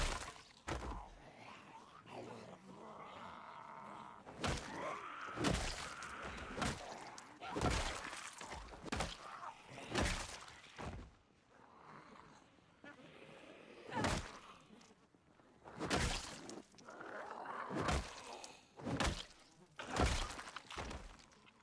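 Repeated sharp swings of a carved baseball bat landing on targets in Project Zomboid, a dozen or more crisp thwacks at irregular intervals, each loud and short, with a voice talking between the hits.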